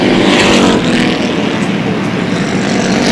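Stock cars race around an oval track, a dense, continuous roar of engines at full speed with no individual car standing out, steady and loud throughout.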